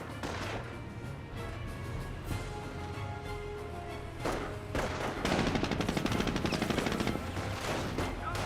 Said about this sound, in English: got a Jeep firing away as well